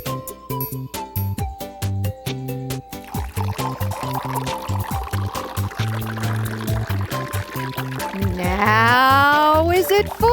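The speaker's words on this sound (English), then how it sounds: "could you pour some water in there for me?" Water poured into a container, heard as a steady liquid stream that rises in pitch as the vessel fills, under continuous music with a rhythmic beat.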